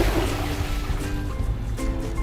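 Two Kohler toilets flushing at once during a waste removal test, a loud rushing swirl of water close by that drains away with gurgling.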